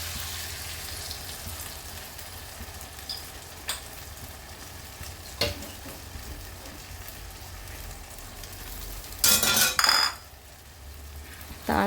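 Cashew and almond paste stirred into mixed vegetables in a pan for a Navaratna korma, with a steady low sizzle, occasional scraping clinks of a spoon against the pan, and a louder burst of clatter near the end.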